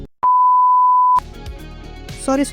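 A phone message notification tone: one long steady electronic beep lasting about a second, then a short burst of busier chimes and tones, loud and clear with no talking.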